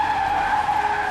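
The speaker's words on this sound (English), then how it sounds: "Sarah crashed head-on with oncoming traffic." A car skidding on pavement just before a head-on collision with oncoming traffic: a sustained, loud tire squeal that holds steady for about a second with no break.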